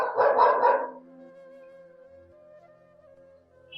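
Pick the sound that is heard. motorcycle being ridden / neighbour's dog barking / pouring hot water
neighbour's dog barking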